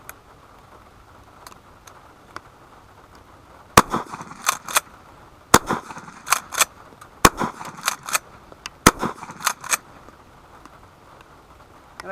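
Gunfire aimed at a broken TV: sharp, fairly distant shots ring out singly and in quick clusters after a quiet stretch with a few faint ticks, with no voices.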